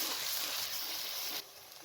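Ginger and garlic sizzle in half a cup of cooking oil with lightly browned onions, a close, dense frying hiss that drops abruptly softer near the end of the brief moment.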